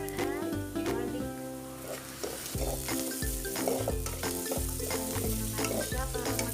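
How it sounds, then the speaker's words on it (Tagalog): Ginger and garlic fry in a pan for chicken curry, giving a loud continuous sizzle broken by repeated scraping stirs and clinks of a utensil against the pan. "Guys, ilagay na natin yung ating ginger and garlic."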